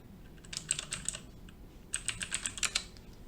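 Quick bursts of typing on a computer keyboard, close and crisp, a short run of keystrokes, a pause, then a faster run of clicks with no talk.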